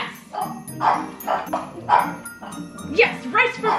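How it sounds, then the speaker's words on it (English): Several dogs bark and yip in bursts around a house, close and fairly loud, with people talking over them throughout. "So many dogs in this house."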